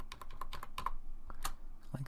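Computer keyboard keys, Shift and arrows, tapped in a rapid irregular run of crisp clicks up close, then a pause and a couple more presses near the end.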